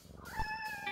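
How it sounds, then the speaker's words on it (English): A cat meows in the video game No More Heroes 2, one clear, drawn-out cry with a rising then steady tone, close and loud over faint background game sounds. "Can we feed our cat or exercise our cat more?"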